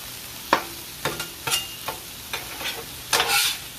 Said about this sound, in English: We're going to cook the sausage again.